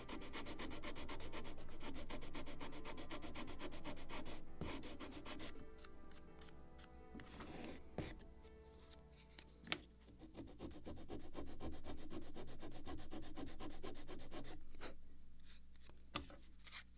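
Sandpaper rubs back and forth over the wooden planking of a 1776 gunboat Philadelphia model ship in long, even, close strokes, with a pause and a few light taps midway before steady sanding resumes.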